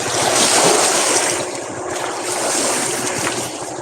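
Waves washing against the shore at an oceanfront fishing spot, with a steady broadband rush and a gentle swell in loudness mixed with wind buffeting the microphone.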